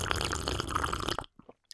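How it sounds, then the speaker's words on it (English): A person takes a close, audible slurp of plain water, a sustained wet sucking draw lasting about a second, followed by a few faint swallowing and mouth sounds in near silence. "you slurp it with me now"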